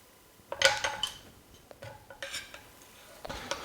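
Raw garlic being chopped on a board in a home kitchen, a run of sharp knife taps and clatter clustered early, then scattered lighter knocks and scraping, close and moderately loud.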